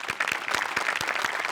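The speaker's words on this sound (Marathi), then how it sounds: "तुमच्यासाठी एकदा जोरदार टाळ्या आमच्या सगळ्यांकडून" Studio audience applause on a Marathi comedy show stage, a short burst of dense, lively clapping from a crowd, heard close and loud without speech.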